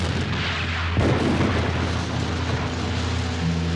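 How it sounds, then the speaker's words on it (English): Covering gunfire in a Victorian-era drama, heard as a heavy, booming shot about a second in over a low continuous rumble, with further dull reports fading into the background. "while my comrades gave me covering fire"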